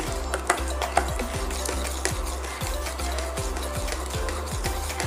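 Cashew, sugar and water mixture being stirred in a thick, heavy pan, with a spoon scraping the metal in steady repeated strokes, close and clear over a low cooking hiss.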